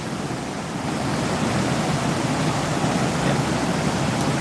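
Floodwater surges steadily through Indian Bend Wash greenbelt in Scottsdale, Arizona, a loud, continuous broadband rush like heavy surf that holds unbroken for the whole stretch, with no voices over it.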